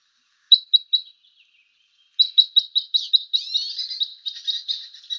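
A crossbill of the Eastern type 10 gives repeated sharp, high chip calls, first a short cluster of three, then a longer run of rapid chips after a pause, clear and close against a silent background.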